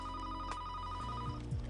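A telephone rings indoors with a steady repeating electronic bell tone, close and fairly loud, over a low hum with faint movement near the end and no talk.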